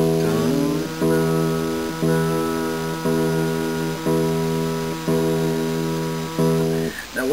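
A guitar's low E string is plucked repeatedly at a steady pace for tuning, each note ringing out and sustaining before the next pluck, with no talking.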